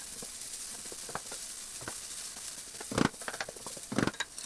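Garlic sizzles steadily in a hot pan, with a constant frying hiss broken by scattered pops and a few louder crackles near the end.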